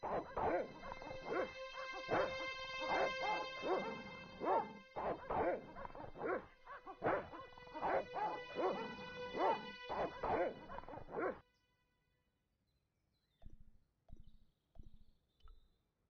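Dogs in the video game Broken Sword bark and whimper in rapid bursts over steady musical tones for about eleven seconds. After a near-silent gap, a few short, separate yips follow.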